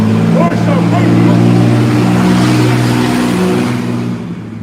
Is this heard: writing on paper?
no